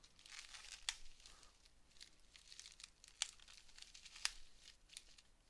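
Packaging of a Yu-Gi-Oh Labrynth card box being cut open, soft crinkling and tearing with a few sharp snips, close and quiet, no talk.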